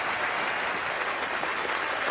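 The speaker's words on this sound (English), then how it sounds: "Wonderful ovation from the crowd over here for a well-deserved 100." A large crowd at a one-day international cricket match at Trent Bridge, England against India in 1990, applauds a batsman's century with steady, dense, sustained clapping from a distance and no break.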